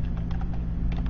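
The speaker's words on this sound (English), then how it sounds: "I mean, I'm typing now" Rapid clicking of computer keyboard keys during a livestream, a steady run of light taps close by over a low constant hum, with no talking.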